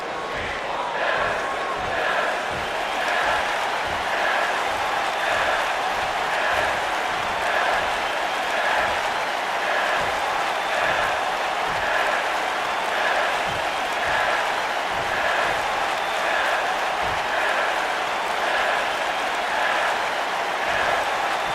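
A Kentucky arena crowd in the WWE 2K19 wrestling game cheers and claps in a steady, dense roar that holds at the same loud level throughout, with rhythmic chants rising and falling underneath.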